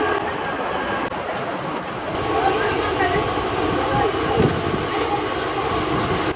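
Mumbai local train running from Dadar: a steady rolling rumble and rattle of carriages with rhythmic rail clatter, loud and close from onboard, with a voice speaking faintly in the background.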